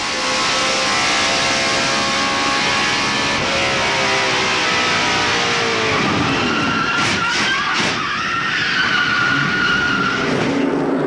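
A 1995 NASCAR stock car skids and crashes at Darlington while other cars roar past loudly, with long tyre squeals over sustained engine noise and a broadcast voice speaking underneath.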